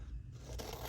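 Scissors snipping a paper tag shorter for a junk journal collage page, a single quiet close-up cut with a brief scraping crunch of blades through paper.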